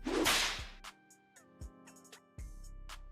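A whip crack sound effect gives one sharp whooshing snap at the start. Several fainter knocks and clicks follow over a low sustained musical drone, with no talking.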